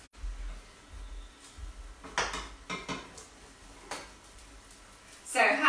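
A frying pan holding chickpea falafel clatters as a utensil scrapes and knocks against it while the patties are flipped over, with a few sharp metallic taps and a louder clank at the end.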